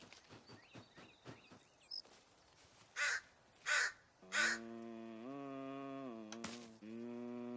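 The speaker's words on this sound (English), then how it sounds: "Was that a crow? I hope that was a crow." Crows caw in the video game The Forest: three loud, harsh calls spaced about a second apart, preceded by scattered clicks and followed by a sustained droning tone from the game.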